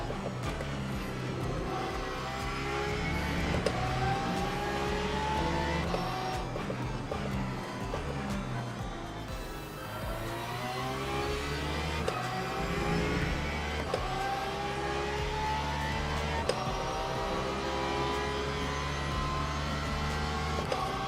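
GT3 and hypercar engines drone through a race at Imola in Le Mans Ultimate, a loud continuous whine rising and falling with gear shifts and acceleration, several cars layered close together with no talking.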